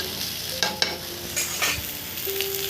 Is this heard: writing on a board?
no